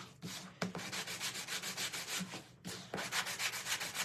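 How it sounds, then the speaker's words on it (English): Rhythmic back-and-forth sanding on a painted wooden flag, close and steady with quick regular strokes, broken by a short pause before the scrubbing resumes. "No, we are going to sand it first."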